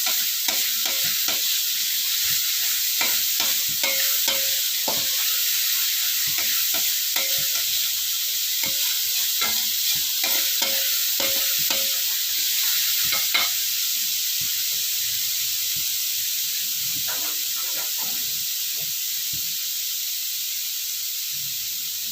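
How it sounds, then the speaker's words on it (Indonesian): Jogja bacem is stirred steadily in a sizzling pan, with a constant bright hiss of frying and repeated scraping and clacking strokes of the spoon throughout. "Ini diaduk terus sampai berubah warna."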